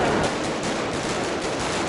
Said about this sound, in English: This fireworks show happened right outside the house